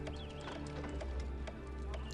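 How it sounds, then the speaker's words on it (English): Horses trotting out of a building in the city-building game Poseidon: Master of Atlantis, a steady soft clip-clop of hooves under a continuous bed of game ambience and music. "there's 4 horses coming out of there"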